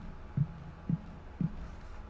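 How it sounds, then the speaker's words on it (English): Footsteps in the video game Babba Yagga: three soft, low thuds at a slow, even pace, each one dull and muffled like a heartbeat, over a steady low hum. "Oh, those are my footsteps."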